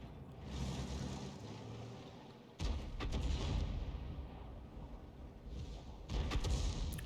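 An artillery shell overshooting and exploding behind an IS-3 tank in a tank battle game on the Ruinberg map, heavy thudding blasts landing at intervals over a low rumbling background.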